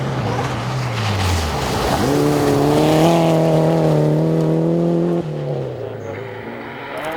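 A rally car, among them a blue Subaru, roars close by. Its engine note climbs, holds a loud, steady, strained pitch, then drops off sharply as the car pulls away.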